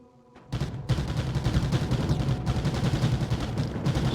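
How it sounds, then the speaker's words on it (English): Homing artillery firing in the Mindustry game, a loud, dense barrage of rapid overlapping blasts and bursts that starts abruptly after a brief quiet moment and keeps going without pause. "it's just a shame there's so much homing artillery in place"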